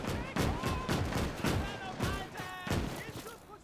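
Rapid bursts of gunfire and heavy artillery-like blasts from a WW2 video game mod, a dense, loud, continuous fusillade with repeated sharp cracks and booming impacts layered over one another.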